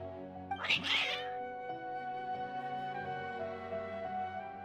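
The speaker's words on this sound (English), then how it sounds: "Your cats seem pretty worked up." Cats meowing in the video game Genshin Impact, a loud cluster of yowling meows near the start that fades into a sustained musical score.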